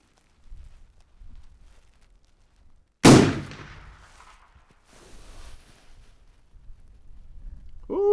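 A single suppressed 45-70 lever-action rifle shot cracks loudly at an outdoor range, fired toward a target at 100 yards, then fades into a brief tail and quiet ambient noise.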